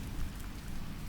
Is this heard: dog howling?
no